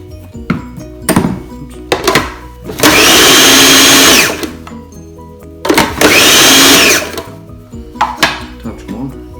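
Smoked mackerel and wild rocket pesto blitzed in a blender, with two loud, close bursts of whirring lasting about one to one and a half seconds each, separated and surrounded by clunks and handling noise.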